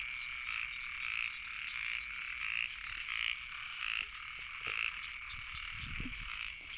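Frogs croak in the rain, a rhythmic chorus of repeated calls roughly every second over a constant hiss of falling rain, with a few soft low thumps near the end.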